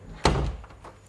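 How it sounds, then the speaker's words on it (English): A house door swung shut with a single solid thud that rings out briefly and fades, with a faint knock just after, over the steady hum of a loud washing machine in another room. "close this door to the other end of the house"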